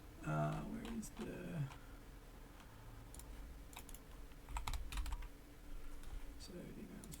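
Quick bursts of clicking keystrokes on a computer keyboard, fairly close, broken by short pauses, while someone talks quietly at the start and near the end.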